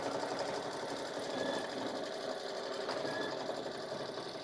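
An embroidery sewing machine stitches around a placed fabric piece with a continuous fast whirring, mechanical hum at an even level, fairly close and without pauses.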